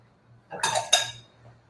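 A big spoon clanks twice against a bowl while mixing a red cabbage salad in a kitchen, a pair of bright, close metallic clinks within a second and no talk.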